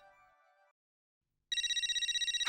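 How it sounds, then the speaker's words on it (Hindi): A brief tone fades out, then after a pause a loud electronic phone ringtone trills rapidly and steadily, close and alone. "मुसीबत का नाम लिया लिया और जेठालाल का फोन आ गया।"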